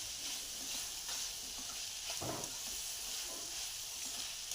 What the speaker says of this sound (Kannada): ಈಗ ಕೊತ್ತಂಬರಿ ಹಾಕಿ ಚೆನ್ನಾಗಿ ಮಿಕ್ಸ್ ಮಾಡ್ತೀನಿ ನಾನು